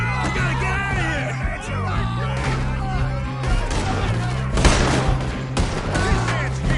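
Chaotic gunfight in Red Dead Redemption 2, repeated gunshots cracking amid shouting voices and game music, fairly loud and dense throughout.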